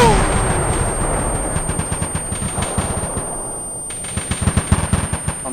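BMP armored vehicle gunfire in the ARMA military game, rapid bursts of automatic shots in uneven clusters, some near and some more distant, with a voice briefly audible among them.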